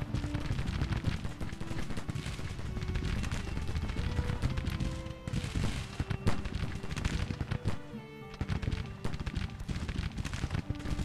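Dense Civil War battle gunfire in the strategy game Grand Tactician: The Civil War, with continuous crackling rifle volleys and sharp reports layered over one another, loud and relentless throughout.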